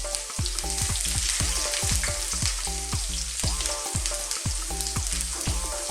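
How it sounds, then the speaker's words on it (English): Garlic, ginger and chilli sizzle in hot oil in a wok, a loud steady frying hiss throughout with a dense crackle of spitting oil and rhythmic clanks of the pan being worked. "I've got my wok on here. I've got a little bit of oil in there, which is nice and hot. Then we go with garlic, ginger and chilli"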